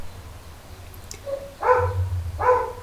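A dog barks in two short bursts, about a second apart, fairly close and loud over a low background hum.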